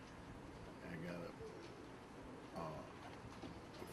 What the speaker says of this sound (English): This is a smock-collar moorhead.